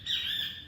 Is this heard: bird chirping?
yes